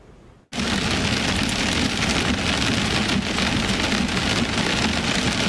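Hail pelts down in a Texas hailstorm, a dense, loud, unbroken clatter and roar that bursts in abruptly after a brief quiet moment and keeps pounding evenly to the end.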